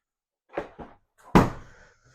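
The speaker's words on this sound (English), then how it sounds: "I'm gonna knock all these boxes over" Model kit boxes get knocked over: two light cardboard taps followed by a louder hollow thump and a short rustling tail, close and otherwise quiet.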